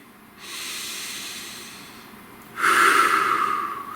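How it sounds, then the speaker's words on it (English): A slow deep breath, an audible inhale followed by a stronger, louder airy exhale, close to the microphone. "Breathe."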